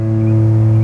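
A single guitar note on the open A string, played for tuning, rings out steadily and clearly at close range for under a second, alone with no voices.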